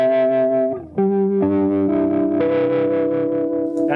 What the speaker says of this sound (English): Fast phaser.